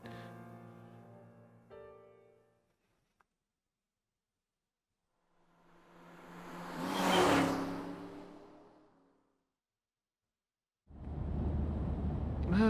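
A car in the video game AI: The Somnium Files drives by, its engine swelling to a loud whooshing peak and then fading out, set between stretches of tonal game sound and silence.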